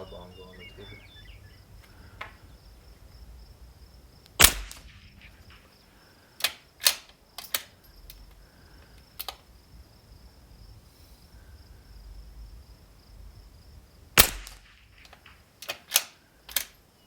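Rimfire rifle shots from a Panthera 700 and a Vudoo V22, sharp isolated cracks spaced several seconds apart, some in quick pairs, over a quiet outdoor background with faint insect buzz.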